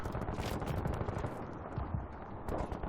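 Dense, continuous gunfire from Battlefield 3, rapid overlapping shots and blasts packed tightly together for the whole stretch, loud and busy with no pauses and no voices.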